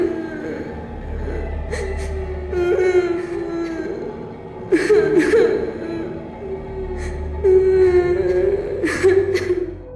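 The Witch in Left 4 Dead sobbing and crying eerily, wavering wails broken by sharp gasping breaths and whimpers, close and fairly loud, in uneven bursts.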